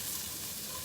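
Minced garlic and golden onions sizzle and crackle steadily in a hot pan while coconut red beans are being made, a close, dense hiss that never lets up.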